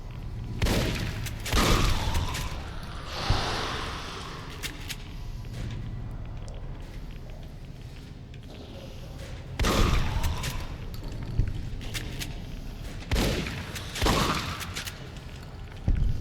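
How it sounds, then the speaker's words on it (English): Shotgun blasts in the video game Fallout New Vegas, several sharp booming shots spaced irregularly over a quiet background, with faint thuds and movement in between. "Man, this shotgun is nice and accurate"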